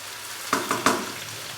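Tomato paste hits chicken frying in a pot for aloo chicken shorba, giving three quick, loud sizzling bursts over a soft, continuous frying hiss, close up and without talk.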